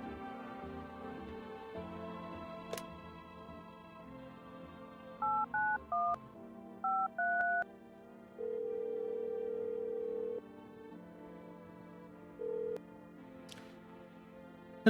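A phone dials out with a series of distinct keypad tones in short bursts, a steady held tone, then one more brief beep, all under a faint background hum.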